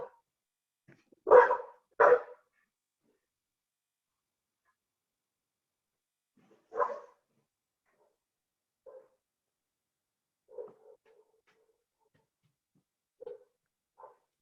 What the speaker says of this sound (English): I'm wondering if I should let this dog out really quickly so he gives us a moment